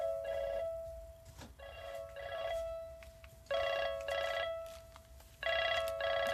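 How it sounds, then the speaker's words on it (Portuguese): A telephone rings in repeated bursts of bright electronic trilling tones separated by short pauses, fairly faint and heard alone without talk. "Peraí que o telefone tá tocando, gente, que chato."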